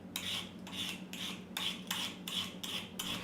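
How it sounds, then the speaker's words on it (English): A vegetable peeler scraping the skin off a celery root in repeated rasping strokes, about seven even passes at a steady rhythm, close and fairly quiet with no talk. "you can get away with a vegetable peeler"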